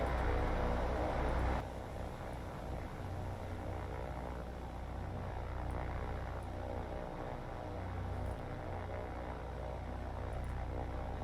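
Japanese propeller aircraft in the naval combat game War on the Sea drone steadily at a distance, a low continuous engine hum with a louder surge in the first two seconds, then a level droning that persists throughout.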